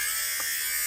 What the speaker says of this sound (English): Another great stocking stuffer or just regular gift idea is this little fabric shaver.